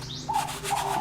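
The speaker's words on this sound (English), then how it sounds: "It's a dove, and it's called a ringneck dove" Ringneck dove cooing in a soft, repeated phrase, heard at moderate distance against a quiet indoor background with faint chirps.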